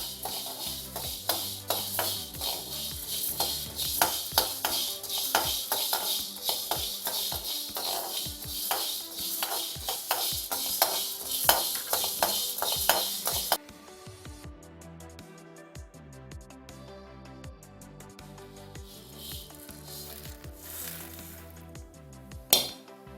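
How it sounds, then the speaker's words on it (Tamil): Black peppercorns are dry-roasted in a pan, making a dense, close rattling and clinking as they are stirred and shuffled, which turns noticeably quieter and sparser about halfway through. "அதுக்கு அடுத்தது மிளகு போட்டு வறுத்துக்கிறேன்."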